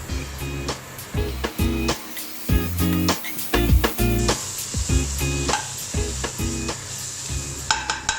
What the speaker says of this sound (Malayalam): ഇനി തക്കാളി ഇട്ട് കൊടുക്കാം.